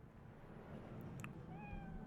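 A cat meows in the video game Cyberpunk 2077, giving one short, close meow over a steady game background hum.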